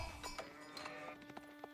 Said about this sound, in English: Another sheep.